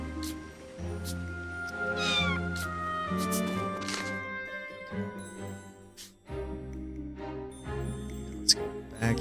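Several cats meow repeatedly in The Adventures of Elliot: The Millennium Tales, their high calls rising and bending over steady game music, close and fairly loud with a small tinkling accent near the end.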